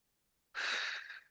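A single long, breathy exhalation during a seated shoulder and neck stretching exercise, close and fairly loud, starting abruptly and fading over about a second, with no talking.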